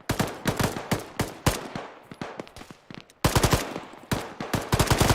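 Gunfire in the Arma military shooter game: bursts of machine-gun fire, loud, sharp and rapid, arriving in clusters with short gaps and then a heavier, denser volley, with no talking.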